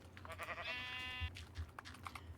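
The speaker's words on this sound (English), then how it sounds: "And there is a sheep." A sheep in Minecraft Beta 1.7.3 gives a wavering bleat over a low game ambience with soft clicks nearby.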